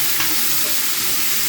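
Onions cooking down with pork belly in a pan for a stew, giving a loud, steady, dense sizzle that stays close and unbroken throughout, with no voices.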